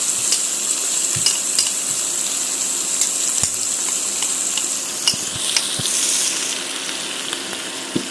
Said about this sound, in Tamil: தடவி வச்ச எறாவை ஃப்ரை பண்ணி எடுத்துக்கலாம்.